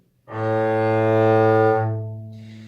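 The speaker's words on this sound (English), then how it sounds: "Okay, so here's the A, 1st finger." A single sustained bowed string note A, played with the first finger, clear and steady, held for about two seconds before fading.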